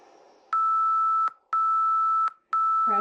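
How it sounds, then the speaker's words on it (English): Workout timer going off with three loud, steady electronic beeps, each about three-quarters of a second long with short gaps between, close and clear, followed by a brief bit of sound at the end. "stay with me even though that timer went off"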